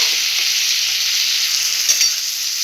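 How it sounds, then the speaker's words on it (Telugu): Onions, capsicum and tomato sizzle loudly in a hot pan as they are stirred, a dense steady frying hiss with a couple of faint scraping touches, no voices. "Let's mix all the vegetables together and close it for 2 minutes."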